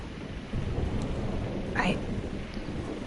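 Heavy thunderstorm rain in the video game Life Is Strange, a steady wash of downpour with a low rumble, plus a brief rising voice-like sound partway through.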